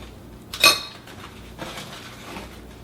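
A serving utensil scraping and clinking against a baking dish while scooping tortilla bake, with one sharp metallic clink followed by softer scrapes, quiet and close.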